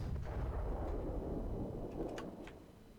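Heavy infantry support gun in ARMA 3 with a WW2 mod, a deep booming report already rolling at the start, tailing off into distant rumble with faint crackles near the end.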